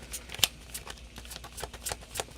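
Tarot cards being shuffled by hand, a quiet run of soft riffling flicks and taps, close and irregular with no talk.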